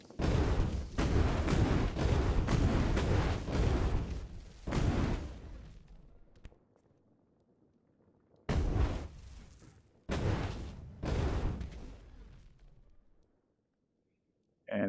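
Gunshots from a weapon in the VR game Blade and Sorcery, loud sharp blasts fired in clusters with short gaps and a quiet pause between bursts.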